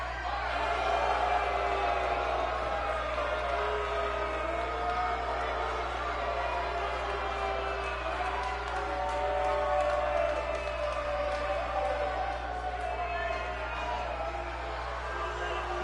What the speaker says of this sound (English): Crowd all behind Project Mayhem